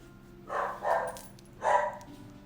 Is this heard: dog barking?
yes